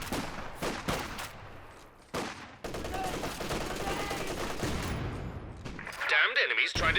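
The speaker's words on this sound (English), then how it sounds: "Triple MGs now." Rapid machine gun bursts and scattered gunfire from a Company of Heroes 2 battle, with a few sharp separate shots first and then sustained rattling fire, loud and close, along with game effects at the end.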